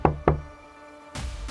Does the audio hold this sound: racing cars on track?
no